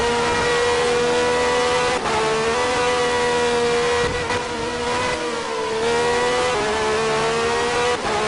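A Formula One car in a racing video game runs flat out at Suzuka through a left-hand corner. The engine holds a loud, continuous high-revving whine, broken by brief dips and rises in pitch at the gear changes.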